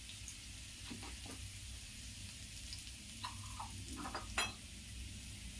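Garlic frying in oil in a pan over a medium gas flame gives a soft, steady sizzle, faint and close, with a few light clinks and stirring touches scattered through it.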